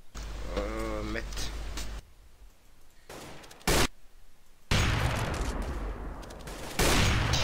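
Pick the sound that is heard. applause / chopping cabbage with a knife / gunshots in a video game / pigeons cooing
gunshots in a video game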